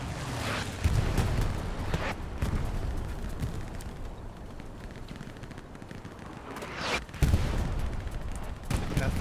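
Artillery fire in the video game Hell Let Loose, heavy booming blasts and bursts of gunfire landing in a few distinct clusters over a rumbling battlefield background.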